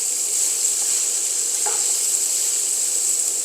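Sausage browning in a pan gives a continuous bright sizzle and hiss of frying fat, loud and close, with a faint stirring scrape partway through.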